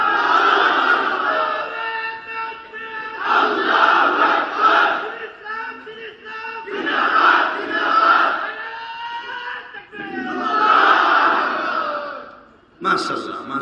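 A large outdoor crowd in front of Jatrabari City Market chants takbir in loud, roaring unison, four or five long surging waves of voices separated by brief pauses.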